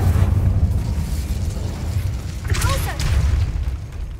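Incendio fire spell cast in Hogwarts Legacy, a loud booming burst with a rising whoosh over a dense rumbling game soundscape.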